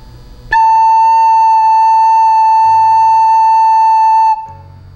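A recorder (flauta dulce) holds a single steady note A for about four seconds, pure and loud with a sharp start and clean release, and quiet background noise before and after.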